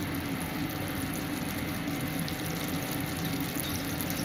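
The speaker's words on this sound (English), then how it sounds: "So that's bubbling away, the butter, as you can see." Butter bubbling and sizzling in a pan on the heat while making a pasta bake, a steady dense crackling fizz that carries on unbroken at an even level with no talking.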